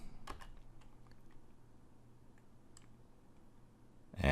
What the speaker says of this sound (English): Just type in the login username and password that you set up back in Lecture 1.